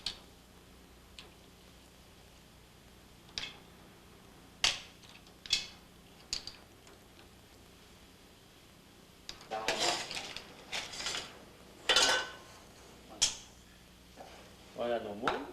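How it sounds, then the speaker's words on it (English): Cooked mussels are pulled from their shells in a kitchen, giving sparse clinks and clatters of shells against a bowl or dish, then a busier flurry of scraping and knocking, close by and with no talk. "Now remove the mussels from their shells"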